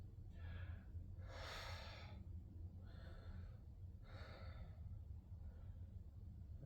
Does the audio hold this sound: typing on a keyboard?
no